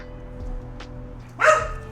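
A dog at home gives a single sharp bark near the end, after a quieter faint yip, over a low indoor hum.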